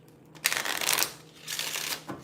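Tarot cards riffle and slide against each other in two quick broadband bursts of shuffling, close up and alone with no voice.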